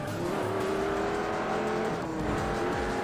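Race cars in the video game Juiced roar side by side during an overtake, with engines howling, tires squealing and a passing rush of sound. The scene is dense and loud throughout, with no voices.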